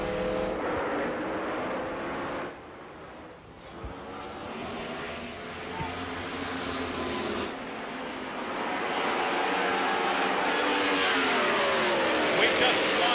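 IndyCar race cars roar away at a green-flag restart at Pikes Peak International Raceway, a sustained loud engine drone rising in pitch as the field accelerates, with a commentator talking over it throughout.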